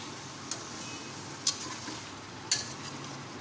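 Chicken, onions and tomatoes fry in a pot with a continuous low sizzle, while a spoon clinks against the pot three times at roughly one-second intervals.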